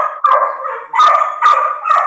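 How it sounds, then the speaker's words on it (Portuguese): A dog barks loudly and close by in a rapid series of four or five yapping barks, with no voices over them. "Adriano louvando um cachorro latindo aí"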